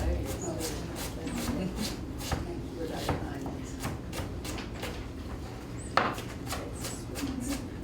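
A knife repeatedly slicing through a Spanish onion on a cutting board, producing a steady run of crisp, close cuts with one sharper chop near the end, beneath a voice at a cooking class.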